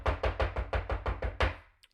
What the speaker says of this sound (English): So my door knock usually sounds something like this.